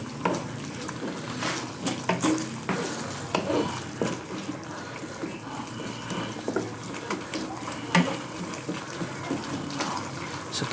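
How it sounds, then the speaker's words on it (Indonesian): Chicken and bell pepper are stirred in a pan, giving soft scraping and gentle sizzling with irregular clinks close by, fairly quiet throughout. "kita masukkan terus semua. Kita aduk."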